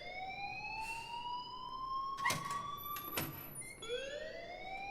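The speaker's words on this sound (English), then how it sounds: "Please turn that alarm off." A school alarm blares in the video game Life is Strange, a repeated rising electronic wail with a couple of sharp clanks partway through, steady and moderately loud with no one talking.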